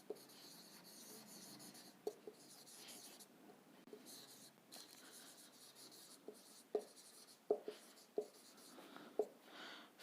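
Pen or marker writing on paper while a trapezium-shaped field's length is worked out in a class 8 maths lesson, soft scratchy strokes with small taps at pauses, close and quiet, mixed with faint background noise.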